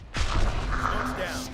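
A smoke ability fires in the tactical shooter Valorant during a pro match: a sharp launch thump followed by a sustained hissing, airy rush, loud and close.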